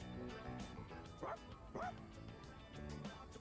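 A dog in Persona 3 Reload gives a couple of short, yipping barks over busy game music and background sound, fairly clear but not loud.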